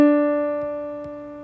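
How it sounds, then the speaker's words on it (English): Single D note struck on a keyboard, a clear sustained tone that sounds at once and slowly fades over about a second and a half, with faint background noises. "this first D would sound like this."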